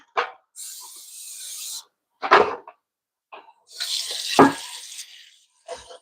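Tap water runs in short bursts into a sink while pork belly is rinsed, with intermittent splashing gushes separated by quiet gaps, close and moderately loud.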